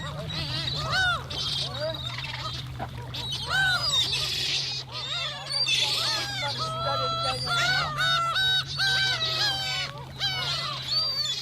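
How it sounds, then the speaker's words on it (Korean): Seagulls crowding and feasting on dropped fish at a fishing port in Seocheon, Chungcheongnam-do, a dense, continuous chorus of overlapping squawks and cries from many birds close by, over a low steady hum. "그 덕에 오늘도 갈매기들끼리 잔치가 벌어졌습니다."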